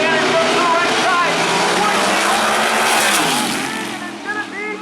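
Drag race cars, one a 2013 Mustang with Albert Racing engines, launching at Maryland International Raceway: a loud, sustained roar of engines that fades slightly toward the end, with an announcer talking over it.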